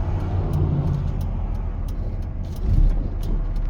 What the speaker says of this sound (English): One of many cyber trucks in our area. Oh, he's coming this way.